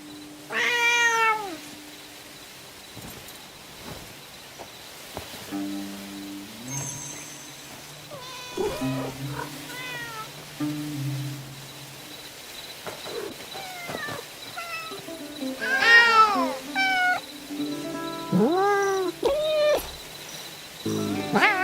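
Several video game cats meow in a row, varied rising and falling calls scattered through the stretch, some close and loud, others softer, over a quiet game background.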